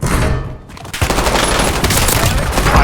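Loud video game gunfire, a dense rattle of shots starting abruptly after a brief lull and continuing steadily to the end, close and forceful.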